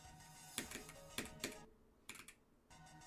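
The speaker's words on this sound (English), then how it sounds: "I cannot express how much I'm clicking" Close, fast bursts of mouse clicks during a Geometry Dash run, several clustered clicks, a short gap, then another flurry, with no voices.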